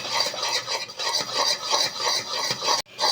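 Homemade condensed milk, with a pinch of baking soda just added, is stirred in a pot. Rhythmic scraping strokes repeat steadily up close, with a soft sizzle beneath.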